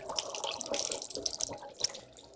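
Tap water runs into a sink while a face is washed, a steady splashing stream with uneven spatters and drips, close and moderately loud.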